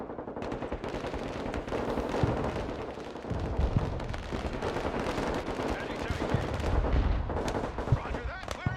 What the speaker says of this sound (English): My guy stepped out of the building and immediately got vaporized by an artillery shell.